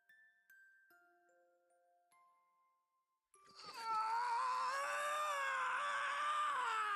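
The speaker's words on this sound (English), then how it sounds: "I couldn't move, but I could hear his screams" Adage screams in the game Steam Prison, a loud, sustained, wavering cry that suddenly follows a few sparse chime notes and then holds steady to the end.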